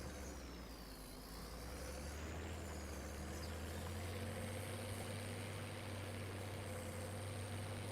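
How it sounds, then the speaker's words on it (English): A tractor engine in Farming Simulator 25 runs at a steady drone with a low, constant rumble. A faint whine sweeps up and down above it, with no voices. "First time driving the tractor"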